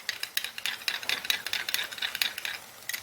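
Spoon stirring and beating yogurt in a bowl, a run of quick scraping clicks and taps in an uneven rhythm, close and moderately soft, with no talk.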